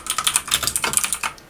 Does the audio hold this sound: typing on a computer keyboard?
yes